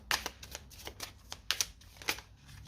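Oracle cards are shuffled and drawn by hand, a quick series of crisp riffling flicks and soft slaps, close and fairly quiet, with no one talking.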